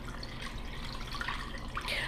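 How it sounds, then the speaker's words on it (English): Two cups of water pour into a pan of four-pound Boston butt pork for carnitas, a soft continuous splashing and trickling that stays close and fairly quiet throughout. "what we got here going in here is 2 cups of water"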